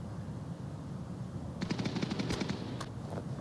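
A rapid burst of gunfire in the virtual reality shooter game Onward, a quick string of sharp shots at moderate distance over steady background noise, lasting about two seconds.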